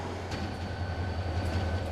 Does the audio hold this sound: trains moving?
yes